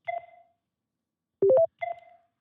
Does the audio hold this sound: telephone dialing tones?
yes